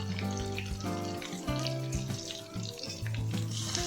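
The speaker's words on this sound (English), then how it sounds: "Stir it well with garlic paste." Garlic paste and curry leaves frying in a pan, a close sizzle broken by repeated clinks and scrapes of a spoon stirring, with a steady hum underneath.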